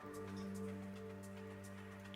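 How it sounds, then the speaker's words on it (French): Steady rain falling outside a temple in Brittany, a continuous soft hiss and patter with scattered drops, faint and even throughout with a low steady hum beneath. "ça pleut pas mal"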